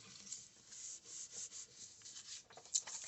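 Paper pressed and rubbed down by hand onto a junk journal page, a soft, close dry rubbing and scuffing that comes in uneven strokes, with a slightly sharper scrape near the end.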